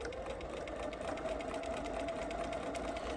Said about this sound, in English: So I'm going to stitch this.